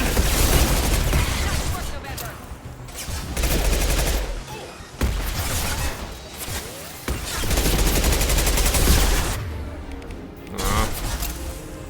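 Pistol fire and surrounding combat in Mass Effect 2, dense bursts of gunshots and booms rolling almost continuously, loud and close, with a voice talking over the action.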